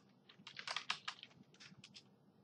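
Quick bursts of computer keyboard typing as jQuery code is entered, a cluster of close keystrokes in an uneven rhythm with brief pauses, fairly soft and with no talk.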